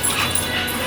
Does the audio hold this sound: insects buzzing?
no